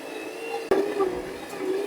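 A stand mixer runs on its lowest speed, working bun dough, a steady low motor hum with a faint whine and one brief knock partway through.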